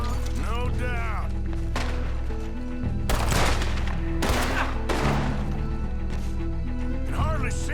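Gunfire fills a night shootout in the video game Red Dead Redemption 2, with loud sharp shots and bursts ringing out over a tonal musical score.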